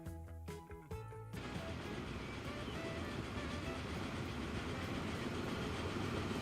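Trains rolling on rails in Transport Fever 2, a steady dense rumble with faint clickety-clack throughout after a brief tonal game sound at the start.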